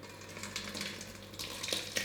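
Whole milk curds poured and splashing into doubled cheesecloth for homemade cottage cheese, a wet continuous sloshing and pattering, close and moderately loud with no talking.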